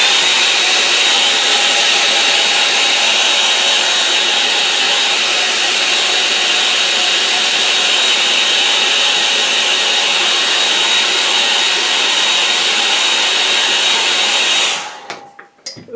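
A hair dryer blows hot air over a watercolour painting of snowy Surrey Hills trees, a loud, close, continuous whooshing roar held steadily before switching off and dying away at the end.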